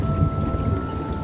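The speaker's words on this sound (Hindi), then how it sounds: "आज शाम से ही मूसलाधार बारिश हो रही थी।" Heavy rain pours in a dense, unbroken hiss with a low rumbling undertone, steady and loud for a brief moment, with no voices.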